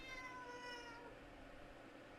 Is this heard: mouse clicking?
no